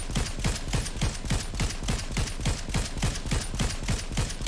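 Rapid automatic gunfire in Fortnite Zero Build, a steady stream of about five shots per second, loud and close, sustained across the whole stretch with no pause.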